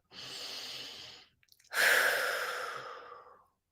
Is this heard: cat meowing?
no